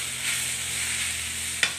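Sautéed bamboo shoots and mushrooms sizzle steadily in a pan, with one short scrape of a stirring utensil near the end; no talking.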